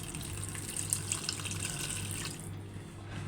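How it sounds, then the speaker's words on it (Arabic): Broth pours steadily over layered maqluba rice in a pot, a soft continuous liquid gush close up that stops abruptly near the end, with no talk. "وننزل بقى عليها بالشوربه"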